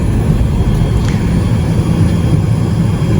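Steady low engine rumble of a Hawker 800XP jet taxiing at night, a continuous drone with no talk over it.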